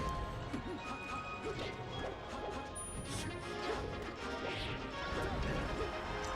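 A forward smash attack lands in a competitive team video game match, a sharp crashing whack rising out of dense, steady game audio with crowd-like noise and commentary chatter throughout.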